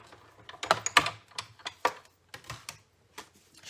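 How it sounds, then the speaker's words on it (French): A small paper craft punch pressed on a card for scrapbooking: a series of crisp, close clicks and snaps in an irregular rhythm, quiet between presses, no voices. "je vais utiliser ce petit poinçon-là"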